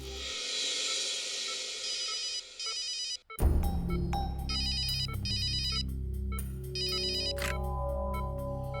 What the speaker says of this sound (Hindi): डॉक्टर तारिका को फोन कर देता हूं